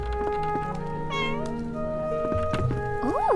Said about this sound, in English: They have a cat here.